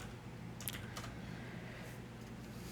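Quiet, quick keystrokes on a computer keyboard enter a short script name in the Unity editor, a few close taps and a soft clatter heard alone.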